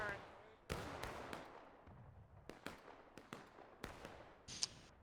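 Scattered distant musket volleys in the American Civil War game War of Rights on the Hagerstown Turnpike map, sharp irregular cracks at varying distances over a quiet ambient bed, around a dozen shots.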